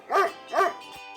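A dog barks twice in quick succession, each bark loud, close and sharp, followed by a brief quiet tail with no other sounds.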